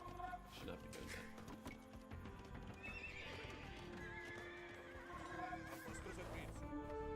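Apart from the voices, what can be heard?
horses neighing in a video game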